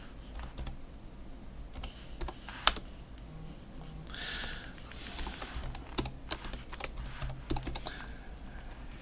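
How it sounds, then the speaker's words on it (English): Someone typing a short bio on a computer keyboard: soft, irregular keystroke clicks in uneven bursts over a quiet room hiss, with an occasional faint sniff and no talking. "You can type in a little information about yourself."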